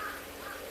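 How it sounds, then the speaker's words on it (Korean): Crows caw faintly in the distance against steady outdoor ambience on a spring day by the sea, a brief harsh call rising over the background. "까마귀가 이리 날아다니노"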